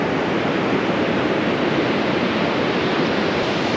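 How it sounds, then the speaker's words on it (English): Ocean waves breaking on a beach, a loud, dense and continuous rush of surf with no distinct individual breaks and no voices. "don't get stuck in these waves"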